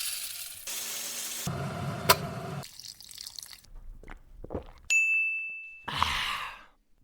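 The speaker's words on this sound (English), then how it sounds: "That was the sounds of coffee." Coffee being made: a run of short separate kitchen sounds, including clinks, a bright ding, a gurgling pour, a steady high hiss or beep, and a final burst of steam or rushing noise, each close and fairly quiet.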